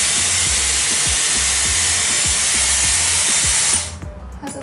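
Loud, steady rushing airflow from a Dyson Airwrap styling tool blowing on hair, a continuous close hiss that cuts off abruptly near the end, with faint clicks afterward.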